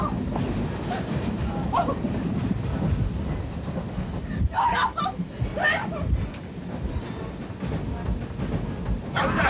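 A train rumbles along its rails in steady, low rolling noise throughout, with a few brief higher squeals or clatters partway through and faint voices mixed in.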